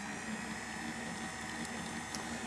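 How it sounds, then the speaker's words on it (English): Wet ingredients are poured into the bowl of a running electric stand mixer, giving a continuous liquid rush over the steady motor hum. No voices are heard. "And I'm just going to pour our wet ingredients in here."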